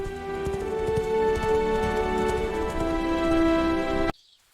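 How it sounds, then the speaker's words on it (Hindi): Galloping hooves for a prince riding out on a hard journey with four horses, a steady clip-clop running under a full bed of sustained tones before cutting off abruptly near the end. "राजकुमार 4 घोड़े लेकर कठिन यात्रा पर निकल पड़ा"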